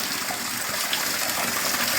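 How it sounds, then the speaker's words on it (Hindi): Mountain spring water gushes steadily from a gaumukh spout at a temple, a continuous broadband splashing rush that stays loud and even throughout. "यहाँ बाद में एक गौमुख का निर्माण किया गया है और ये शुद्ध पहाड़ों का जल है"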